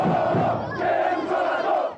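Outside Morumbi stadium, a crowd of São Paulo football fans protesting after a 3-0 loss to Cruzeiro roar and chant together in a dense, sustained wall of voices.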